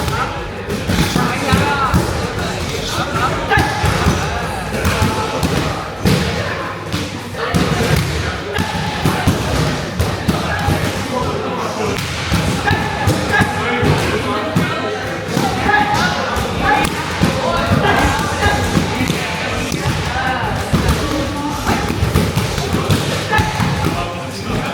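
Repeated thuds of kicks, teeps and punches landing on pads during a Muay Thai class at Immersion in Glen Waverley, a busy continuous rhythm of impacts mixed with voices and gym noise.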